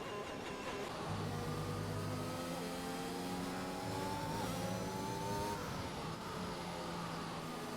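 Racing car engines roar in a racing video game at the Red Bull Ring, with several cars throttling in a sustained, loud drone whose pitch climbs and falls as they accelerate and ease off.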